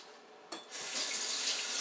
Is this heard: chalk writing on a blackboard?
no